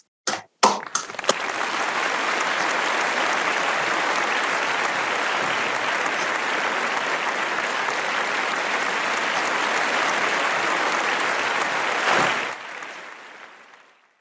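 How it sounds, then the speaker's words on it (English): A large audience breaks into sustained, dense applause that holds steady for about ten seconds before tapering off. "Please join me in applause."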